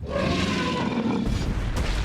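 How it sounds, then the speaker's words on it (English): A T-Rex roaring in a Minecraft mod game: one loud, broad, rumbling roar that fills the whole moment, with a deep low-end boom underneath and no talking. "And now I should be able to hear all of his roars."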